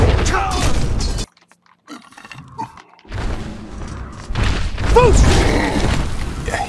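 Skyrim Fus dragon shout striking an enemy, with a sharp shattering, crashing impact and loud rumbling bursts, a near-silent gap partway through, then more clattering combat noise.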